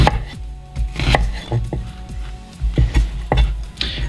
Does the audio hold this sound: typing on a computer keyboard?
no